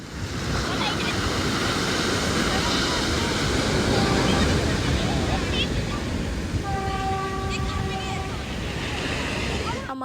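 Ocean waves break on Alleppey beach in Kerala with a loud, continuous roar of surf close by, and a few faint whistle-like tones appear toward the end.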